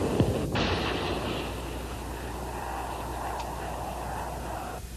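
Enemy gunfire at Khe Sanh during the Vietnam War: a sharp report at the start, then a steady, rumbling wash of distant battlefield noise.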